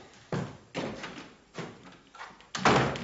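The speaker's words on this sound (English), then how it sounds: "Just shut the door, man." A door is shut indoors with a series of solid thumps and knocks, several heavy bumps spaced unevenly, the loudest coming at the end.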